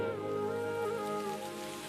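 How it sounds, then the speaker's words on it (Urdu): Rain falls in a steady soft hiss under a faint sustained tonal hum, with no voices. "اب بارش ہونا شروع ہو گئی ہے."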